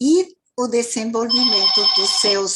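A telephone rings with a steady, high electronic tone that runs under continuous speech and grows more prominent partway through.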